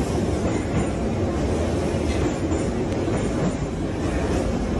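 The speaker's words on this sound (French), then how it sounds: "C'est le métro ukrainien" Ukrainian metro train running through a tunnel, a loud continuous rumble and roar of wheels on rails with no speech.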